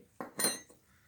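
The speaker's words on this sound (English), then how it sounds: "you're going to have to stir them all together. And make sure you get it all mixed good" Spoon scraping and clinking against a bowl while stirring sugar and brown sugar together for apple pie, two or three short close knocks with a faint tinny ring, otherwise quiet.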